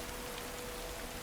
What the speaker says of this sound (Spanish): Lluvia.